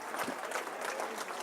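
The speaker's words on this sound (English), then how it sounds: "Crowd gives Nash a hand" A crowd at a high school wrestling match applauds a wrestler, giving steady, dense clapping that fills the space at moderate loudness without breaks.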